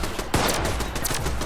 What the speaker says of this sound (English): 600 damage on a headshot with a plasma caster, a heavy weapon.